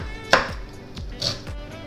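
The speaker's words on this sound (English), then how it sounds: "Okay, we're going to cut up this ginger" A knife chops fresh ginger finely on a cutting board, giving a few sharp, close knocks spaced out over a couple of seconds with no talking.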